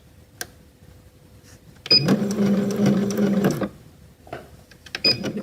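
A sewing machine runs a reverse stitch, a close steady whirring burst of under two seconds framed by short clicks of the mechanism before and after.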